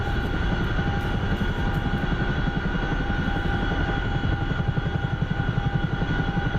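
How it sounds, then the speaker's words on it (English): Jet aircraft engine roaring steadily in a flight video game, a continuous loud whine and rumble with pulsing low-end throughout, no voices. "I just heard a jet"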